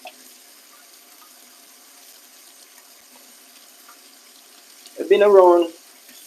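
Tap water splashes briefly over a pumpkin as dirt is rinsed off, a short burst of running water at a sink late in the clip after near silence, with a voice speaking quietly beforehand.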